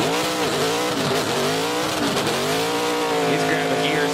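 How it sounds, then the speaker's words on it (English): NASCAR Truck Series truck doing a burnout, engine roaring loud and steady as the driver grabs gears, with tires squealing and a commentator talking over it throughout. "grabbing gears on the burnout"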